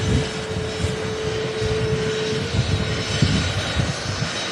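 A BAE jet aircraft rolls out on the runway at Manchester Airport, a steady, loud engine roar with a whining tone held throughout, heard from a distance with no talk.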